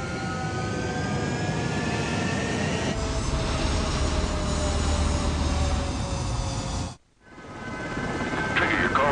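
In the video game Ace Combat 7: Skies Unknown, a military jet takes off with a loud, steady roar and a rising whine, then drops away abruptly for a moment before the engine noise returns; no talking.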